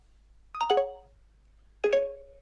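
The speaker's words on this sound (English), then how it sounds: "I heard the dead ringer tone." Two separate electronic phone tones after the phone button is pressed by accident, each a short bright descending chime, clean and close, with silence between them.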